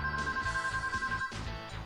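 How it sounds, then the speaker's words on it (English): A cell phone ringing inside a horror video game, with a steady electronic ringtone repeating in short pulses, close and clear over low game ambience. "Wait, my cell phone is ringing."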